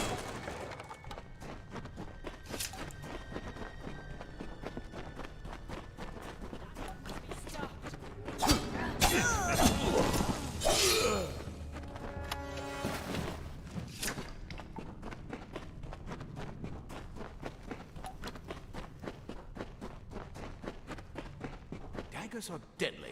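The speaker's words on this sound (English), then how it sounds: "I don't need footsteps to be that loud." Footsteps of a character in the action RPG Kingdoms of Amalur: Re-Reckoning, soft repeated steps running steadily under game music and effects, with a louder burst of combat-like impacts midway.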